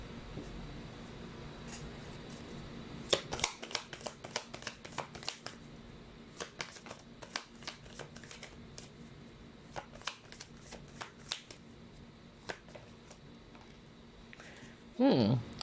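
Tarot cards being shuffled, a quiet run of crisp riffling and flicking bursts repeated irregularly, close to the microphone over a faint steady hum, with a short louder rustle at the end.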